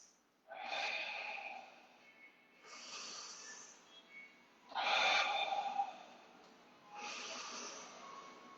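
Slow, deep breaths during a vinyasa yoga class: four long, airy inhale-exhale cycles with pauses in between, close and soft.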